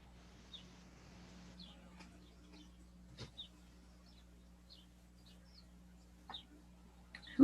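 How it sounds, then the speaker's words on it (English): Faint, distant birdsong drifts in from outside a window: a few scattered chirps and short calls spaced across a quiet room with a low steady hum. "Do you have birds singing?"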